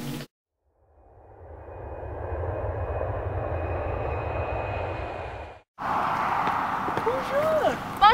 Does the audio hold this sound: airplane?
yes